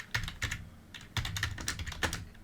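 Keyboard keys tapped one at a time with a single finger, in slow irregular bursts of sharp clicks, close and clear with no voices.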